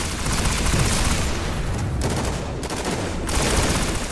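Rapid pulse rifle fire rattles in Destiny, a dense, loud and continuous barrage of shots with a couple of short gaps, close and with no voices over it.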